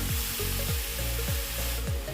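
Grated apples frying in a heated pan give a loud, steady sizzle, with repeated scraping strokes of stirring cutting through it at a regular pace.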